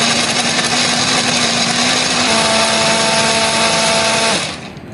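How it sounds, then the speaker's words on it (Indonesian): Kitchen blender grinding a spice paste with added water for a chicken dish: a loud, steady motor whine that shifts to a higher, tighter pitch partway through, then cuts off near the end. "Di sini aku akan menghaluskannya menggunakan blender"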